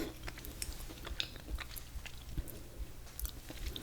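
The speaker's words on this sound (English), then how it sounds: "I forgot that our Reese's were special. That crunch caught me by surprise." Someone crunching on a Reese's candy, a string of quiet, close crisp bites and chewing clicks at an irregular pace with no talking.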